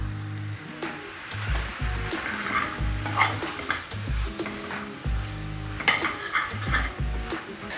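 Vegetables and spring onions stir-fried in a pan, with steady sizzling and repeated scraping and clanking of a utensil against the pan, loud and close.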